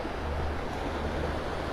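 Ocean waves washing on Vanderbilt Beach in North Naples, Florida, on a foggy morning with an outgoing tide, a steady broad surf rush with some wind noise.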